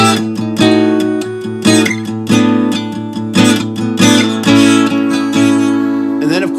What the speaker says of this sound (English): I run that open A string so it can sound like this